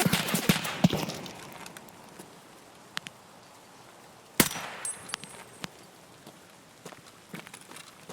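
Scattered gunfire in the game Escape from Tarkov, a few sharp distant shots and cracks spread irregularly over quiet ambient background, with soft footstep-like rustles between them.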